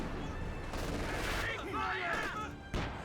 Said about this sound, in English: Mortar barrage onto the MG34.